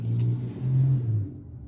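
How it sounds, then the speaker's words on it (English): Road traffic passes nearby: a car engine drones in low swelling waves, rising twice and then fading away, fairly faint with no talking. "Sorry about the noise if you heard the traffic"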